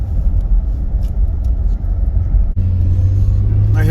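A 1991 Ford Thunderbird on a test drive gives a loud, steady road rumble from inside the cabin, with the engine note settling a little lower partway through.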